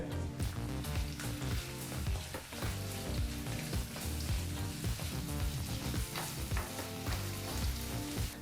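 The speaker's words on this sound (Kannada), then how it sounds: "ಈ ರೀತಿ ಬಹಳ ಚಿಕ್ಕದಾಗಿ ಕಟ್ ಮಾಡಿದಂಥ ಎರಡು ಈರುಳ್ಳಿಗಳನ್ನ ಹಾಕಿ ನಾಲ್ಕರಿಂದ ಐದು ನಿಮಿಷಗಳ ಕಾಲ ಈರುಳ್ಳಿನ ಮೀಡಿಯಂ ಫ್ಲೇಮ್ನಲ್ಲೇ ಫ್ರೈ ಮಾಡ್ಕೋಬೇಕಾಗತ್ತೆ" Finely chopped onions frying in a pan on a medium flame for paneer and pea gravy, a dense continuous sizzle with frequent crackles, heard under rhythmic background music.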